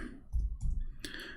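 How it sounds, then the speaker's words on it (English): Keys clicking on a computer keyboard as a short word is typed, a few close, distinct taps in quick succession with a sharper click near the end, heard alone. "So if we type the word Ahad here, and I will type it in front of you, Abdul."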